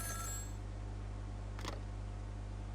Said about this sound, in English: And there's the phone.